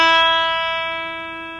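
A single E note rings out on an Ibanez PGM 700 electric guitar, a clean, steady sustained tone that decays gradually, clear and alone.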